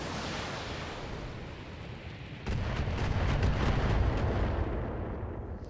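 Mech weapons in the BattleTech video game open fire on a target, a dense roar of rapid blasts and explosive bursts that swells partway through and holds loud for several seconds over constant rumbling.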